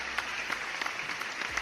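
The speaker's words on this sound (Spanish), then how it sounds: "un aplauso para el Vidiella, grande." A short burst of audience applause, steady clapping that fills the clip, with a faint voice or background sound underneath.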